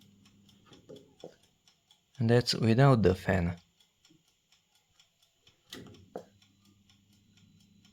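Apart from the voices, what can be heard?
ticking clock on the Qilive mini oven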